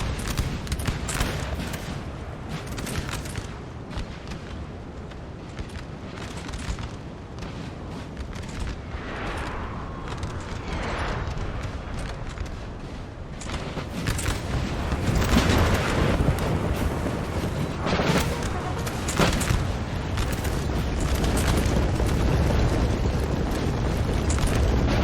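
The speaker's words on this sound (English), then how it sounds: "All this British infantry just getting shot in the flank" Musket volleys crack into an infantry flank in the Napoleon: Total War battle game, a dense crackle of distant and nearer shots with booming bursts, building louder in the second half over a constant battlefield din.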